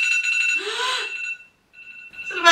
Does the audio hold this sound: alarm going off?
yes